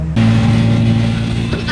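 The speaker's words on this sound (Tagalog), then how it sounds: "yun yung tricycle." A tricycle engine drones close by after an abrupt start, a loud steady hum with a slight rise near the end.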